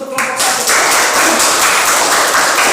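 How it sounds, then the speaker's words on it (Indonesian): A group gives a short burst of steady applause, with many hands clapping together at close range. "mari kita berikan aplaus untuk kelompok"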